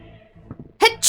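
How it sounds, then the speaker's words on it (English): A voice acts out a loud sneeze with a sharp, forceful burst, followed by a second burst, after a few quiet murmurs. "Very loudly sneezing."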